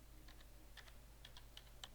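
Typing on a computer keyboard while entering a discount code for domain and hosting purchase, with a few quiet, irregular key clicks over a low steady hum.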